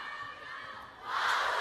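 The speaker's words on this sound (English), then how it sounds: "Oh, the crowd gasping in delight." A table tennis crowd at a doubles quarterfinal in a large arena rises from a steady murmur into a loud, swelling gasp and cheer about two-thirds of the way through, sustained to the end.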